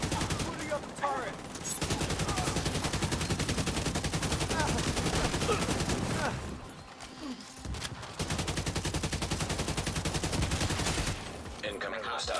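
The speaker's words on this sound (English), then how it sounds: "Booting up the turret." A video game turret fires long rapid automatic bursts, a dense rattling stream of shots close and loud, broken by a brief lull before firing resumes.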